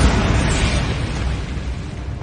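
Bombarda spell explosion in Hogwarts Legacy, a loud, dense blast whose roaring rumble fills the clip and slowly decays without clear separate hits.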